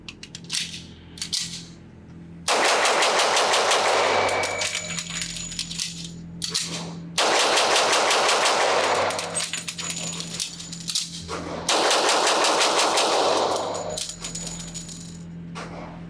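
A Sig Sauer P220 Legion SAO 10mm pistol fires at a range in three loud bursts of rapid shots, each string a few seconds long, with quieter pauses between them.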